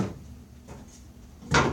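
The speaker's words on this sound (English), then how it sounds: "take our drawer pieces apart" Wooden drawer pieces, cut on a dovetail jig, being pulled apart in a workshop: a soft knock near the start, a faint mid-clip clatter, then a sharper, louder wooden clack toward the end, with no talking.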